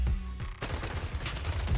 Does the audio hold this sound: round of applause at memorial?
no